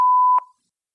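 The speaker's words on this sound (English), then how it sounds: "Please leave a message after the tone." A single sustained electronic voicemail beep plays after the recorded answering message, clean and steady for about a third of a second before stopping abruptly, followed by silence.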